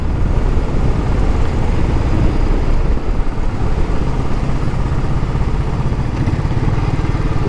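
A 2017 Royal Enfield Classic 500 single-cylinder engine thumps steadily while being ridden, a loud, continuous low rumble with throbbing pulses and road noise and no voices.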